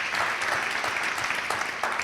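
An audience claps steadily in a studio interview setting, a short burst of dense, even applause.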